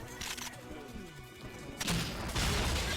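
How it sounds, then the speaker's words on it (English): Grenade blast shattering glass through a wall in the shooter game 007 Nightfire, a sudden loud burst of broadband crash and debris rolling over continuous game noise and faint background sounds. "So I can blow that up through the wall there"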